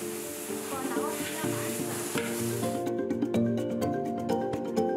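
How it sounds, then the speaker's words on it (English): Ginger and peppers fry in a heated pan of cooking oil, giving a loud continuous sizzle and hiss with occasional light clinks of a utensil, set against a steady tonal background. "A frying pan is heated with cooking oil, ginger, and peppers."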